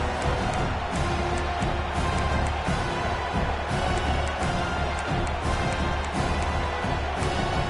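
A large stadium crowd roars steadily at a college football game against Tennessee late in the first half, a dense and continuous wash of cheering and noise from start to finish.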